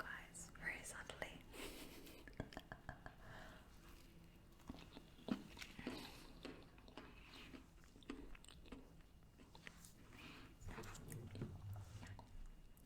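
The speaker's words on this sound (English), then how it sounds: "But I will eat in front of you guys very subtly." Soft food is eaten quietly and close up, with gentle bites and slow chewing in small bursts, mixed with whispering throughout.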